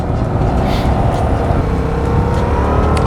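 Motorcycle engine pulling steadily under acceleration while riding, a loud continuous drone mixed with wind rush and no voices.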